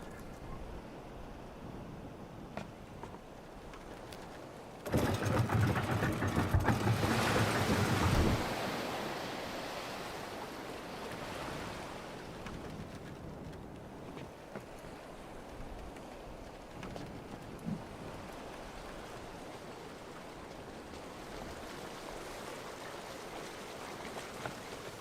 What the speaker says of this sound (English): So waterfall goes down here, comes out of these holes, and drains there